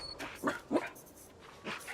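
Dogs in Assassin's Creed Shadows give a few short barks and whimpers, close and fairly quiet, in brief bursts separated by pauses.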